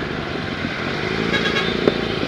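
A big-bike motorcycle of about 1000cc drones past on a road in Cavite, a steady loud engine roar that holds level throughout with a brief sharp knock near the end.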